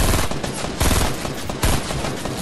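Rapid bursts of automatic gunfire from the video game Fortnite, loud and close, repeating in a dense rattling stream without talk.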